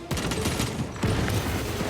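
A grenade blast in Space Marine 2 combat amid ongoing gunfire, with two heavy booming bursts about a second apart, loud and close over a dense battle din.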